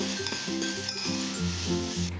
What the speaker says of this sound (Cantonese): 開細火煎至熟透。